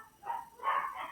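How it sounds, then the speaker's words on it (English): Dogs bark and yelp in two short bursts, somewhat muffled and from another room, in a quiet indoor setting. "oh my goodness, my dogs are going crazy"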